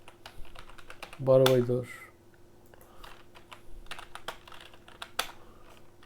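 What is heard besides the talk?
typing on computer keyboard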